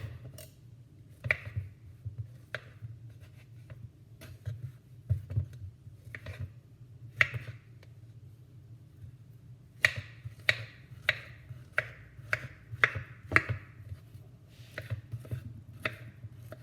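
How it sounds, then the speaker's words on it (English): A knife chops soft, overripe bananas on a cutting board: a scattered series of crisp taps, sparse at first and then quicker and more regular, close and moderately loud over a steady low hum. "So now the bananas are chopped"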